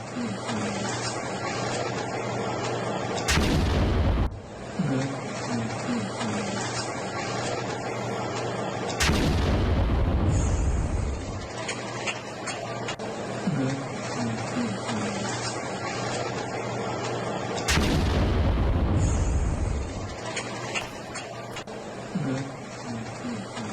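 Loud deep booms from a drone attack on Pakistani soldiers in Khyber Pakhtunkhwa strike three times at intervals over a constant roaring, rumbling background, each blast sharp and heavy.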